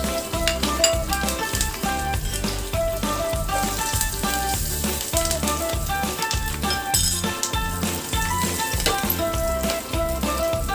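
Continuous crackling sizzle of curry leaves and asafoetida frying in hot oil for a tempering, with light clinks and stirring sounds from a pan throughout.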